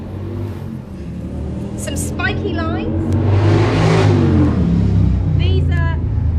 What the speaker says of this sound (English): Sorry about the traffic going by.